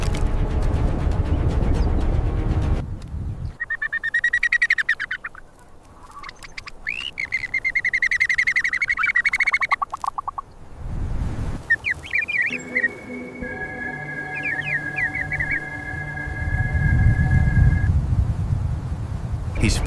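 Emu chicks give thin, high chirps in bursts and sustained piping notes, mixed with low, deep calls from the father emu, while a narrator's voice runs over parts of it.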